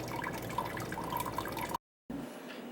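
Watermelon juice trickles and drips steadily through a sanitized colander into a bucket, with a short silent gap before the draining resumes more softly.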